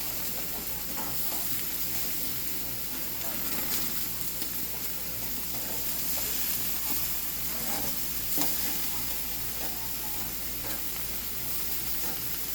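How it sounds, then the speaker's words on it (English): Pork chops sizzling on a fairly new outdoor grill at a family camping barbecue, a loud steady crackling hiss that runs continuously and close up with no talking. "So Ed is flipping the pork chops now. Getting some nice grill marks on there."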